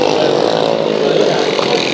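Sprint car and modified race car engines at Bakersfield Speedway, a loud, steady, continuous roar throughout with no breaks, the engines sounding close and dense.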